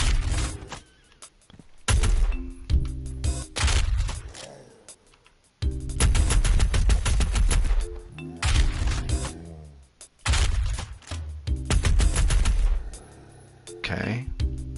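Gunfire from several weapons in Doom Eternal, loud bursts of repeated shots and blasts coming in clusters, separated by short quieter gaps with game sounds underneath.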